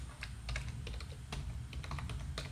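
Rapid, irregular key presses on a computer keyboard while a code comment is typed, crisp clicks in quick clusters over a steady low hum, close and fairly quiet, with no talking.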